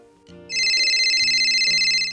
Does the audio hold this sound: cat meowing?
no